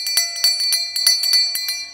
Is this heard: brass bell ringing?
yes